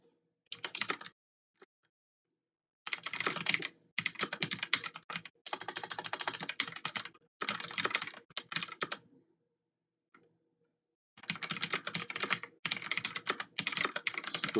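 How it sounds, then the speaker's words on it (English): Typing on a faulty computer keyboard that double-registers keys, with rapid clattering bursts of keystrokes separated by silent pauses, close and clear with no talk. "What a crappy keyboard"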